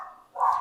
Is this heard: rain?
no